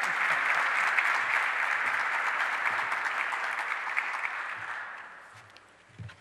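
A large audience applauds the governor at a downtown event in Rochester, with sustained clapping that fades away toward the end.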